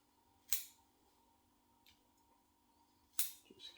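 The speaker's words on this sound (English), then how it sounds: "Pinch the canopy together, grab a handful and just cut it all the same length." Scissors cut through the canopy of a Mallee bonsai: two crisp, sharp snips about three seconds apart, with a fainter click between them, close up in quiet surroundings.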